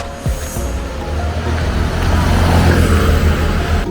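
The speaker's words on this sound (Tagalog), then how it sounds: "May mga sasakyan." Road traffic on a Bangkok street rumbles steadily close by, with engines droning and swelling louder as vehicles pass at a crossing, loud and continuous throughout.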